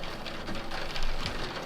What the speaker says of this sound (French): Désolée pour le bruit, il pleut.